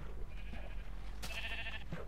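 Two short bleats from a Minecraft sheep come faintly over a steady low background hum, the second brighter and longer.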